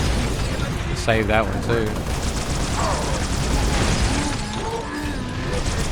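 A needler fires repeatedly at brutes in Halo: Reach, a dense rapid stream of shots and impacts under game combat, with a character voice briefly speaking over it.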